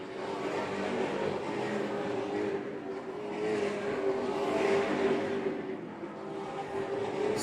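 Super late model race cars competing in the Easy-Kleen Super Late Model Series Castle Building Centres 150, a continuous roar of engines droning and swelling as the pack passes, loud and steady throughout.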